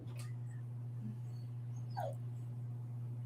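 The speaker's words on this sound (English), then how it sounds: "her dog whining" A pet dog whines in the background of a room, a few brief high whimpers rising and falling over a steady low electrical hum.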